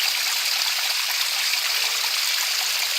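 A small stream of water flows steadily outdoors on a trek near Mourèze, a continuous close hiss and trickle with no pauses or voices.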